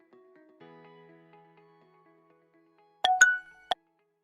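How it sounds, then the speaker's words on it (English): A restaurant delivery app plays a new-order notification: soft faint tones fade out, then three bright clinking chimes ring in quick succession, clear and close with nothing else around. "Now customer and Delivery Boy get new notification in customer and Delivery Boy"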